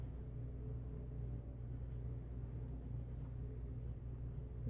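Pencil or pen scratching over paper while sketching a fantasy costume figure, a steady soft continuous scrape over a low room rumble, close and quiet with no voices.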